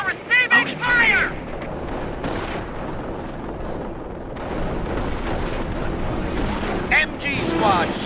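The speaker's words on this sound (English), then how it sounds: "We're receiving fire!" Battlefield gunfire and artillery booms in the World War II strategy game Company of Heroes, a dense, continuous rumble of explosions and shots, with voices shouting over the combat.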